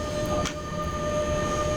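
A heavy train rolls along in the SimRail simulator while dynamic braking is applied, giving a steady, loud mechanical rumble with sustained tonal hums and no speech.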